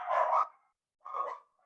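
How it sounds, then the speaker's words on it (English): Two dogs, Escrow and Archer, let out two separate barks about half a second apart, fairly close and loud, with silence around them. "Now you hear Escrow and Archer barking in the background."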